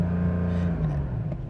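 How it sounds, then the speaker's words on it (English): A Porsche 911 Carrera 4 GTS T-Hybrid from 2025, in Sport Plus mode with its exhaust baffles open, gives a loud, steady exhaust drone that holds close and constant, its pitch easing slightly lower toward the end. "When you put it into Sport Plus, the exhaust baffles really open up,"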